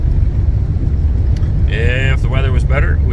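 A car cruises at about 72 km/h on a greasy, slippery wet road, a constant low road and engine drone from inside the cabin, with someone talking over it partway through.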